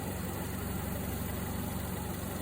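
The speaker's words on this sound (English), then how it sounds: "here's the engine, the 2 litre 16 valve Z-Tech, producing 130 brake horsepower" A 2-litre 16-valve Z-Tech car engine idles steadily with a low, even rumble and constant hum, no revving, alone and without talk.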